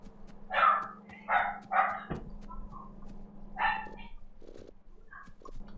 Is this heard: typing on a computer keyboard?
no